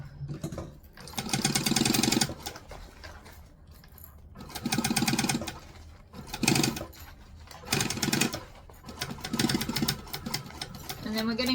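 Home sewing machine stitching a handmade bag, close and loud, running in several bursts of rapid mechanical whirring separated by short pauses, with a voice talking between and under the runs.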